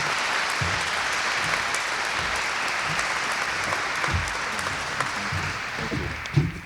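An audience claps steadily and warmly to welcome a speaker from Bombardier at a Fort Wayne, Indiana event, a dense sustained round of applause lasting throughout.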